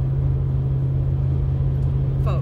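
Steady low rumble inside a moving car on a drive, a constant deep hum filling the cabin with no breaks and no talk over it.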